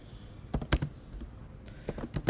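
Quiet keystrokes on a computer keyboard while typing code, a few scattered clicks followed by a short quick burst, close and soft with no talking.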